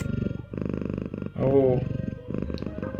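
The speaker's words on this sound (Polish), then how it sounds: "jak słodko mruczy" A cat purrs in the video game Scott Whiskers, a soft rhythmic rumbling that pulses in repeated bursts, with a short vocal sound from the cat partway through and a voice briefly speaking.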